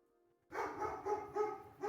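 A dog barks and yips in quick excited bursts indoors, starting abruptly after a moment of quiet and continuing in uneven repeated barks at moderate distance.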